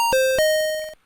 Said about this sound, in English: when I push the A button, it's going to play this bell sound in the key of C